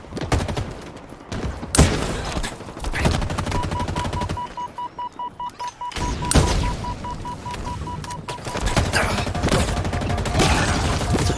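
Rapid bursts of pistol and automatic gunfire in the video game Halo Infinite, loud and dense with repeated shots, a brief quieter stretch with beeping tones midway, then more firing and booms.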